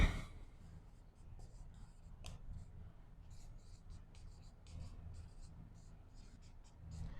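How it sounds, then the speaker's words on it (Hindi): A pen writing on paper, producing faint scratchy strokes in short bursts with brief pauses, close but quiet over a low background hum. "तो चलिए उसको पॉइंट को भी हम लिख लेते हैं"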